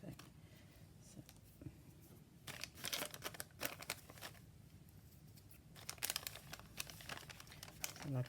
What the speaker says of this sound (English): let's stick the envelope in